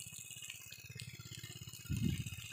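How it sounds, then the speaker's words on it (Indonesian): Water splashes steadily onto soil as newly planted chili seedlings get their routine watering, a close, continuous pattering that swells louder near the end. "kami tetap siram ya karena ini belum ada 7 hari setelah melakukan proses penanaman"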